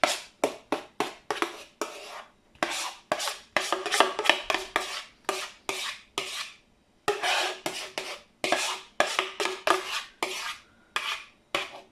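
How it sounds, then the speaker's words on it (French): A spoon scrapes leftover cream from a bowl while a strawberry tiramisu is assembled, giving loud, close, rasping strokes in quick irregular bursts separated by brief pauses. "je vais racler le bol"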